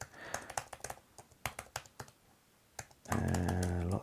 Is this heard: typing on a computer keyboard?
yes